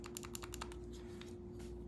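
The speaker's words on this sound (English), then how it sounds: "Makes a nice clicking sound." Crisp, rapid clicks from a lightsaber hilt button on a single hilt with a ProffieClip install, about eight close, sharp taps in quick succession over a steady low hum, no voices.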